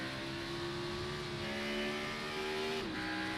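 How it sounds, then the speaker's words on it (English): A race car engine revs hard and steadily in a virtual racing league game at the Circuit of the Americas, holding a loud, constant drone before its pitch dips briefly near the end. "Really revving it up there"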